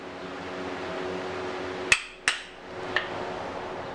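A hammer drives wedges into the head end of a hammer handle in a small blacksmith shop, giving three sharp, ringing strikes spaced a moment apart over a low, steady background hum.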